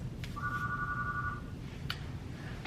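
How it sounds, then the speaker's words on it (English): A hotel room phone rings with one steady electronic ring tone lasting about a second, clear and close in a quiet room, followed by a few faint clicks. "the room phone was ringing"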